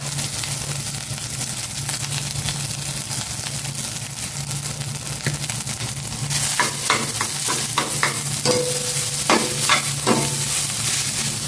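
Rice frying in olive oil in a pan, a steady close sizzle with repeated scraping and stirring strokes of a utensil growing busier partway through.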